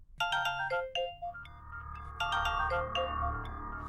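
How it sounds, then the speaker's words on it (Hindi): A phone ringtone plays a bright, chiming melody of repeated tones, loud and close, with no voices over it. "नरेश जी का फोन इतनी सुबह सुबह?"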